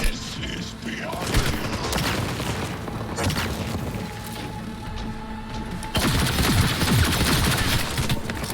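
Dense gunfire from Cyberpunk, bursts and booming shots layered into a continuous fusillade with a heavier wave of blasts near the end, loud throughout.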